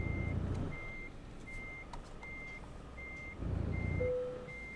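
Reversing beeper of a Mercedes-Benz Actros truck in Euro Truck Simulator 2, steady evenly spaced beeps repeating over a low diesel engine rumble that swells at the start and again near the end.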